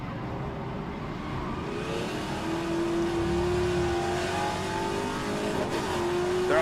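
A classic Trans-Am race car's engine drones loud and close with steady revving, the pitch climbing slowly as it accelerates at a circuit race meeting, with other cars' engines blended underneath.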